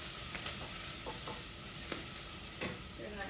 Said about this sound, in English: we just want to kind of saute the onions a little bit